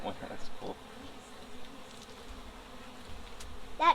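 Bees buzzing at a beehive with a styrofoam hive body, a faint, continuous droning hum with a few closer passes; no speech.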